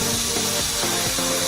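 A construction hair dryer, a heat gun, runs at full power with a steady, dense roaring blast, close and loud and unbroken, with no voices.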